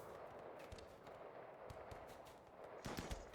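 Faint gunfire in RimWorld from a blind one-armed monk, several quick muffled shots scattered through, clustering into a sharper burst near the end.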